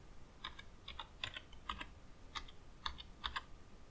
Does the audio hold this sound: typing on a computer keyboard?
yes